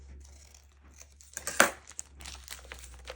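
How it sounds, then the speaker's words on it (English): A glassine bag being folded and snipped for a junk journal, with soft crinkling and rustling and one sharper crisp crease or cut in the middle, close and quiet. "I have a glassine bag here. We'll just fold that in half."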